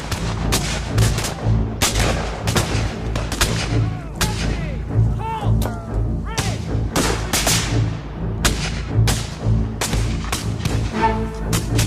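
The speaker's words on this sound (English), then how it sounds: "The two forces, less than 200 yards apart, unloaded with amazing accuracy upon each other using modern rifle muskets" Civil War rifle muskets firing in a battle at under 200 yards, loud sharp cracks and booms in a dense irregular volley, near and far shots overlapping with ringing echoes.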